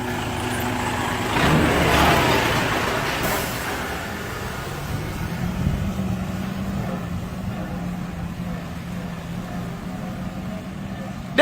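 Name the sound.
truck arriving at a beach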